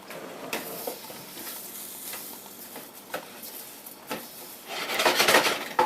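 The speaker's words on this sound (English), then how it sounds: "So I'm just going to spread the rice and let it take on some color" Rice spread and toasted in oil in a pan on a home stove gives a soft, steady sizzle with scattered scrapes and stirring taps, swelling to a brighter, louder crackle toward the end.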